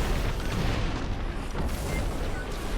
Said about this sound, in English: A lot of missile spam coming out on Vix.